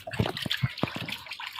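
Cold water splashes and pours in short bursts while a female rabbit is bathed, a few distinct gushes and trickles up close with no talking.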